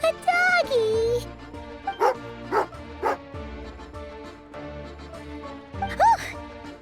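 Dog barking in the video game Genshin Impact, several sharp barks and yips from a nearby hound spaced over a few seconds, layered over game music with a voice also present.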